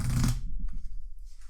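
A deck of game cards for a tabletop board game being shuffled, a short crisp riffle burst followed by a few soft flutters and taps, close and quiet.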